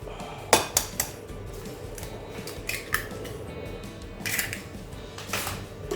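Fried chicken marinade with egg and garlic oil mixed in a bowl, heard as a few sharp clinks of a utensil against the dish followed by softer scraping and stirring.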